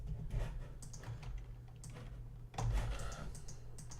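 Rapid typing on a computer keyboard, close and fairly quiet, a steady patter of key clicks with a brief pause and a heavier burst of keystrokes near the middle.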